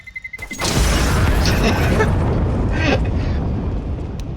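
A bomb explodes in a video game, Counter-Strike: Global Offensive: a deep, heavy boom bursts after a brief lead-in and rumbles on loudly, with crackling debris over it.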